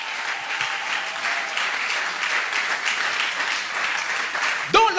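Church congregation applauding and cheering together, a dense steady wash of clapping and voices filling the room throughout, with a sharper shout near the end.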